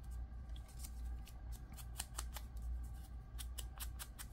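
Scissors snip paper pages into angled cuts for a small junk journal, giving a string of quick, faint, close crisp snips over a low steady hum.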